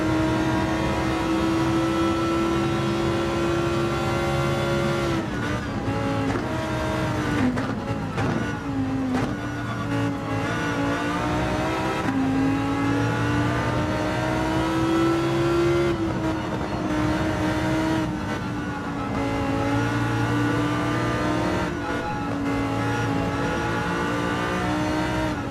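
A Group 4 race car in Gran Turismo 7 laps Suzuka Circuit, its engine droning loud and close throughout, pitch climbing through the gears and dropping on downshifts, with brief tire noise in the corners.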